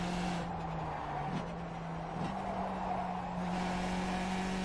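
A Skip Barber race car in iRacing holds a steady, droning engine note with a faint whine over it, dipping briefly a couple of times as the throttle is rolled on through the corners.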